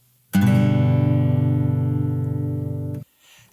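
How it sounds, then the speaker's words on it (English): A single low guitar chord on the three lowest strings, fretted, strummed once and left ringing for nearly three seconds, then cut off abruptly; no voices. "you're going to play your lowest 3 strings on the guitar together while holding them down on those frets"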